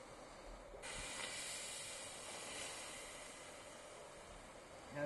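Steam hissing loudly and continuously after a sudden onset, a broad, steady rush of noise close by at an outdoor protest scene.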